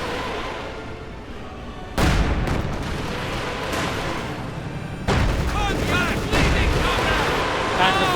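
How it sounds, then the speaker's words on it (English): A Panther tank in Company of Heroes 2 fires heavy booming shots while rockets streak and burst, two sharp loud blasts followed by rumbling battle noise, with a commentator talking over it. "Panther 4 firing away. Rockets flying here, not quite hitting anything."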